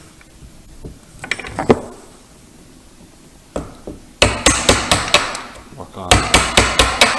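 Hammer blows strike a chisel working a wooden vanity table mirror frame, first a few scattered taps, then loud sharp rhythmic strikes in two quick runs, with a brief voice at the start.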